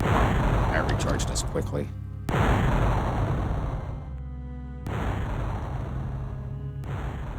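Spell blasts in The Elder Scrolls: Arena, including an acid blast, as three long roaring bursts that cut off abruptly between them, with a voice speaking over the first.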